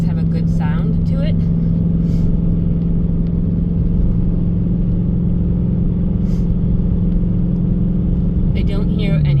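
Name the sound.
2019 Dodge Challenger 5.7 engine while driving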